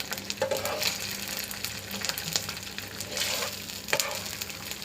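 Green chilies fry in hot oil with a steady, close sizzle and crackle. Brief spatters and stirring scrapes surface now and then over the continuous hiss, and no voices are heard.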